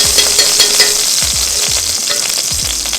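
Steak searing in a hot skillet with beef tallow: a loud, continuous sizzle and crackle close by, with a few low knocks of the pan being moved, and no talking.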